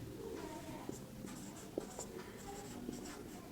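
Chalk or pen writing during a complex analysis lecture on analytic functions, with faint scratchy strokes and a few sharp taps against steady room hiss, no talk.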